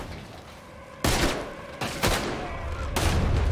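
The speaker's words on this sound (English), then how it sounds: "Looks like we're shooting our way out of here, fellers." Gunfire from a Red Dead Redemption 2 shootout: four loud, sharp bursts of shots with ringing tails, spaced about a second apart, over a steady low background.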